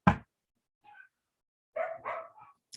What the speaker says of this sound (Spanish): Sabrina se llama, su dueño no la ha educado para que no ladre mañana, tarde y noche.